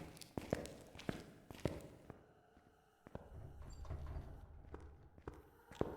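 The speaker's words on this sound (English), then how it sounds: "Now I can hear its footsteps." Footsteps from a ghost in the horror game Phasmophobia, a run of irregular thuds and creaks, some sharp and some muffled, moderately faint against a dark, low ambient rumble.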